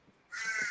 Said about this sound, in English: I can hear those crows in the background